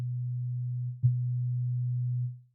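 A pure sine-like synth tone from Ableton Live's Operator, held steady and fairly loud. A sharp click and brief blip cut in midway, then the tone carries on and fades out at the end.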